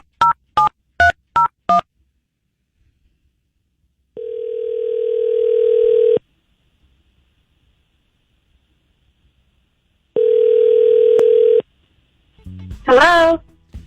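On a telephone call, five quick keypad dialing beeps come first, then two long ringing tones separated by silence, and a voice starts up at the very end.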